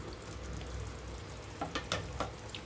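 Tomato and green peas curry simmering on a low flame, a soft steady sizzle and bubbling with a few clinks and stirring scrapes near the end, no talk.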